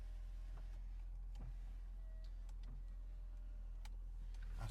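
Electric window motor on a 1991 Mercedes 300 SE, a faint, quiet whir with soft clicks and ticks in a still cabin, no voices.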